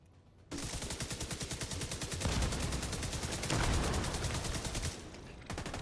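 Video game gunfire bursts out as rapid, rhythmic automatic fire, loud and close, running for several seconds with a brief pause near the end before it resumes.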